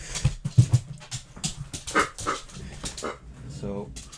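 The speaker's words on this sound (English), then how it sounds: "So I've got our dog in here with us." A pet dog pants and whimpers close by indoors, quick breathy bursts and a few high whines mixed in with a person talking.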